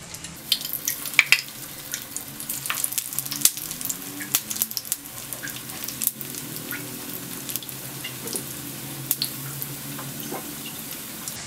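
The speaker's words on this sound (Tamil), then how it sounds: "இப்போ எண்ணெயில் போட்டோம்னா சீக்கிரமாக உங்களுக்கு பொரிஞ்சிடும்." Mutton cutlets fry in hot oil with a constant bubbling sizzle, sprinkled with sharp crackles and pops across the whole stretch, close up and without talk.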